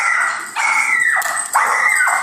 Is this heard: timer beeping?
no